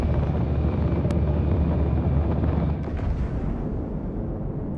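A Corsair fighter plane in an online combat video game, a loud continuous engine roar with gunfire-like bursts, steady and close throughout.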